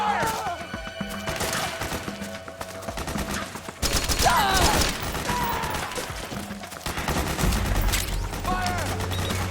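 Chaotic firefight in Metal Gear Solid 4: Guns of the Patriots, with crackling volleys of automatic gunfire and sharp impacts mixed under music and shouting soldiers' voices.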